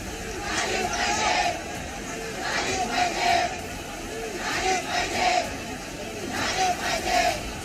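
An angry crowd protesting over the Badlapur school case roars and chants in loud, surging waves, many voices shouting together in a rhythmic pattern that rises and falls repeatedly.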